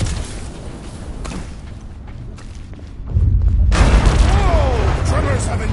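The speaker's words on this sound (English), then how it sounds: "Tremors have intensified." Rumbling tremors in Marvel's Guardians of the Galaxy: a low, heavy boom swells up partway through and keeps rolling loudly to the end, with thuds and debris-like crackle layered over a quieter ambient bed.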